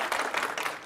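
A loud crowd applauding at a Roblox convention panel, dense continuous clapping filling the whole short moment with no gaps.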